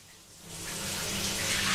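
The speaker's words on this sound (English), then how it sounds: "heads straight into a shower" Shower water running steadily in Tomb Raider 2, a broad hiss that swells from quiet to a loud, continuous spray over a low rumble.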